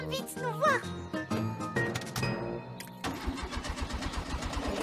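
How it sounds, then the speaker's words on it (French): A cartoon car engine cranks repeatedly but will not start because its fuel tank is empty, giving a rhythmic chugging stutter after a stretch of music and voices. "Zut alors, la voiture ne démarre pas."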